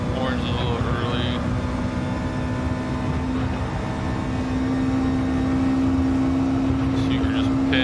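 A race car engine held at full throttle on the Trial Mountain circuit in Gran Turismo 7, a loud continuous droning whine under a person talking.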